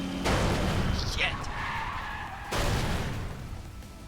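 Race cars in Trails Through Daybreak II skid off course, a loud, harsh tire screech and engine roar that falters briefly and then surges back in a second burst.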